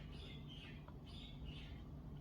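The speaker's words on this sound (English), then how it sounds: "the birds started chirping all of a sudden" Faint birds chirping outdoors, a few high squawky calls spaced over a couple of seconds, distant and soft above a steady low background hum.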